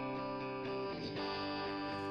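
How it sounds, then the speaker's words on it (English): A heavily over-compressed electric guitar track sustains a chord with dense, buzzing distortion and a slight pumping swell. It plays steadily for about two seconds, with no voice. "yeah, you see how that's creating some distortion. It's almost too compressed."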